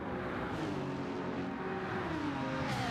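A Lamborghini race car at full throttle on Monza's straight in Gran Turismo howls loudly and continuously, its engine pitch climbing steadily as it pulls away, with no speech.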